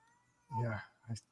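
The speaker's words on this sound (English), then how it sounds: "What are you screaming at? My cat." A pet cat screams with a long, loud meow followed by a shorter second cry, close and alone over quiet background hum.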